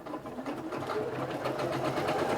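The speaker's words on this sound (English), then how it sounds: "if I just start down there and I hit the reverse, it will automatically do a tacking stitch there as well" A Singer Quantum Stylist 9960 sewing machine runs a tacking stitch, its motor whirring up from a soft start into a steady, close-up rapid stitching rhythm.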